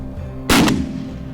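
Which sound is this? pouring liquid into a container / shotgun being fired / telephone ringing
shotgun being fired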